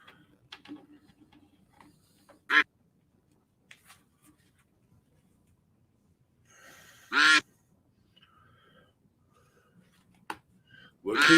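Cartoonish duck quacks from a duck race video game pop up sporadically, short loud honking calls with long quiet gaps and scattered small clicks between them.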